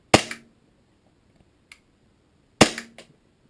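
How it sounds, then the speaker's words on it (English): A WE G17 airsoft pistol fires two sharp, snappy shots about two and a half seconds apart during a chronograph test, with faint mechanical clicks between them in an otherwise quiet room. "right now I'm just going to do a chrono test of the gun"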